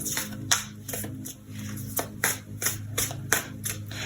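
Tarot cards being picked up and handled during a reading, with close, crisp riffling and slapping of the cards in irregular bursts, about a dozen sharp flicks over a few seconds.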